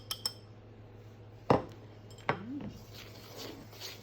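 Baking powder, salt and sugar are stirred together in a bowl, giving a few faint utensil clinks and scrapes against the dish, with a couple of sharper knocks spaced apart over a quiet background.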